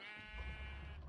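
A single brief sheep bleat from Minecraft, a wavering nasal cry lasting about a second, faint and close, with no talk over it.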